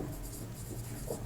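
Faint, scratchy strokes of writing on a board during a mathematics class, a short run of soft, steady scraping in a quiet room.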